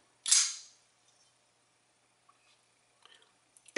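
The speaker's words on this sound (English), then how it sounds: "that sound, which is completely unique to this knife, it's even louder than my R.J. Martin Q36" A single sharp, loud snap of a Ferrum Forge prototype knife with a zero-grind SM100 blade flipping open, followed by near silence with a few faint ticks and handling clicks.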